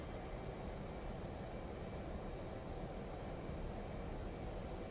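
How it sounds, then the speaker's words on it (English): Steady, loud broadband jet roar of a DCS F/A-18C Hornet at full thrust on takeoff in a flight simulator, continuous and unvarying throughout with no talk. "the jet pretty much takes off by itself"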